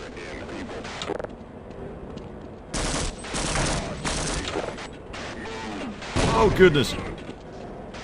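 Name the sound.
grenade exploding in the video game Half-Life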